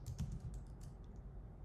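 Quiet, rapid keystrokes on a computer keyboard as code is written, a soft irregular patter of clicks with no talking.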